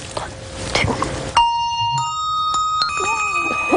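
A women's handbell choir plays a short tune, with ringing bell tones entering sharply and sustaining in overlapping layers after an opening stretch of chatter and room noise.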